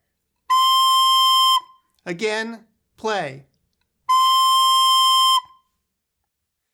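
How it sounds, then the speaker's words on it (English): Recorder sounds a steady note B twice, each clean whistle-like tone held for about a second. A short spoken cue comes between the two notes. "To play a B, you cover the back hole with your thumb and the first front hole with your index finger."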